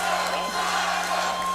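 Arena crowd at the USFFC 22 fight night cheering and whooping for a winning fighter, a dense continuous roar with shouts rising out of it, loud and steady throughout.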